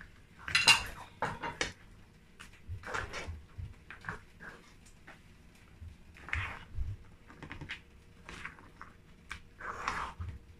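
Fish goes into a pot of okra soup with seafood amid scattered clinks and clatters of metal utensils and pot, light irregular taps over a quiet kitchen background.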